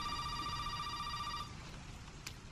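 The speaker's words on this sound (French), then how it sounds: "Téléphone, téléphone, téléphone." An electronic telephone ringing in the horror game Resident Evil 7, a steady pulsing ring that carries for about a second and a half and then cuts off, leaving quiet room ambience with a brief click near the end.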